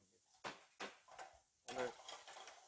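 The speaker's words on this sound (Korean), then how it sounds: "어느 정도 열기가 올라왔을 때 해산물을 넣어줍니다." Seafood goes into a hot pan with garlic and is stirred, giving several distinct scraping, sizzling bursts with short pauses between them, close and fairly quiet.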